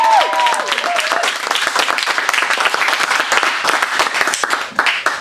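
An audience at a live comedy show applauds the sound technician with steady, loud clapping that carries on throughout, briefly overlapped by a voice at the start.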